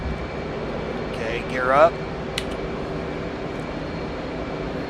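An F/A-18C jet engine runs at full throttle in DCS World as a steady, broad roar throughout, with a brief rising whine partway in, while a pilot speaks a short phrase over it.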